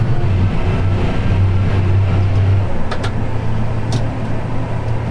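A farm vehicle drives to the grain cooperative during a wheat harvest, its engine a steady low drone that drops in pitch as gears shift smoothly, with a few faint clicks, and no one talking.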